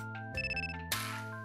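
A phone ringtone plays a short electronic melody of bright repeated tones over a steady hum, followed by a burst of noise as the call connects.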